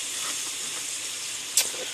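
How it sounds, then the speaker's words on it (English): Chicken and bread in a pan bubble and sizzle with a steady, loud steamy hiss, broken near the end by one brief sharper crackle. "Alright, so this is bubbling down."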